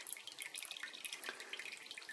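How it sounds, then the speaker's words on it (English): Whey drips steadily from a hanging ball of homemade feta cheese into a bowl, a continuous patter of small close drops with no talking. "To let all that whey drip into that bowl."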